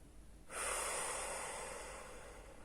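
A slow meditation exhale through the nose, close and breathy, starting abruptly and tapering gently over two seconds, with no talking.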